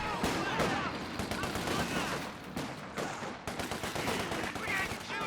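Rifle fire from infantry squads in Company of Heroes 2, a rapid, dense stream of crackling shots and bursts at steady high loudness, mixed with battle noise and some voice activity throughout.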